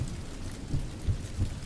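Rain falls steadily while low thunder rumbles underneath, with a few soft, deep pulses recurring at a slow, even pace.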